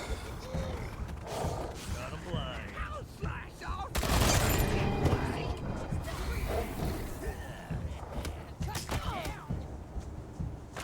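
Enemy gunfire in the video game Wasteland 3 comes as scattered cracks and a loud burst of shots and impacts, set in a busy mix where voices talk over much of the action.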